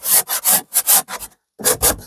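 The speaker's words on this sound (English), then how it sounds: "So I'm making sure it gives everything a really good sand at this point, so that it all beds down and it looks like one." Abrasive back-and-forth rubbing of sandpaper across a painted, distressed surface, close and loud in quick strokes, with a brief pause before two more passes.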